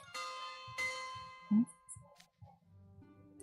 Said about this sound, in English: Ah, there's the bell. Must be lunchtime.